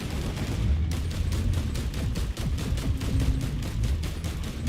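Rapid, steady bursts of automatic gunfire from the roguelike shooter Risk of Rain 2, loud and continuous, with repeated sharp shots over a dense rumbling game soundscape.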